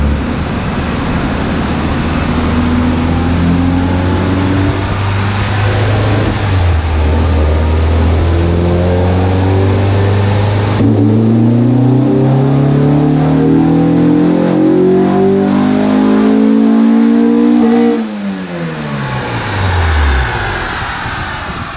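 A built, turbocharged EG Honda Civic with a GSR engine and SheepyBuilt turbo kit revs on a dyno, a loud, steady engine tone climbing through each pull, with one gear shift midway and the revs falling away at the end.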